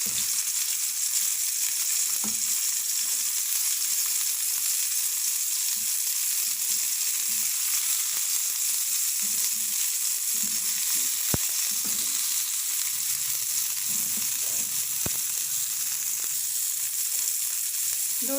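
Zafrani chicken kebabs fry in a pan with an even, continuous sizzle and a few faint scrapes or taps, close and steady throughout, with no talk.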